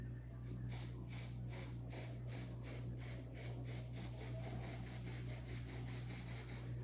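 Spray paint can hissing over a stencil in a series of rapid, regular bursts, about two per second, bright and close over a steady low hum.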